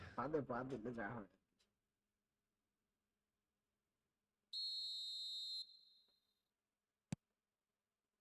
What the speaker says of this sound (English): And the whistle's gone, presumably for offside.